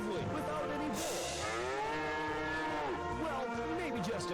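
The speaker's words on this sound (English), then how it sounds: "Well, maybe just a few cows." Several cows moo in a radio advert for a farm co-op, long drawn-out lowing calls overlapping one another, close and clear, with no talk over them.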